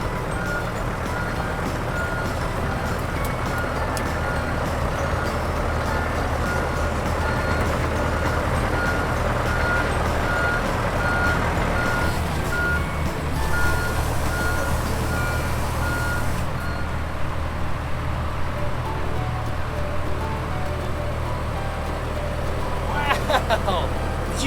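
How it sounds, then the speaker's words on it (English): An excavator rumbles steadily at close range while its reversing alarm sounds a regular series of beeps over the engine noise; the beeping grows sharper near the end. "did you guys see me driving this excavator?"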